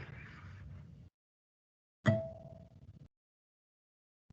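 A guitar string plucked as a natural harmonic at the 12th fret, ringing an octave: one bright, bell-like ping that sustains for about a second, coming after a burst of soft noise and ending before a brief final sound.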